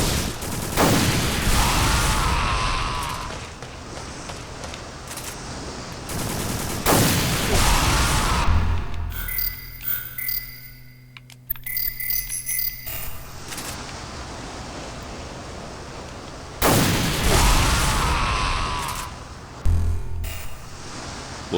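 Rocket explosions in a video game at a fort showdown: three loud, roaring blasts with long noisy tails, separated by quieter stretches of crackling and clicking.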